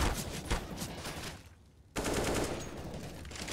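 Rapid automatic gunfire bursts in a Counter-Strike match on the Vertigo map, with dense overlapping shots, a brief lull midway, then renewed heavy fire.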